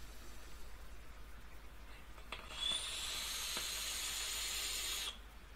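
An Apocalypse RDA GEN V2 atomizer fired at 60 watts on a 0.23 ohm coil gives a few faint clicks, then a steady airy crackling hiss of about two and a half seconds that cuts off abruptly.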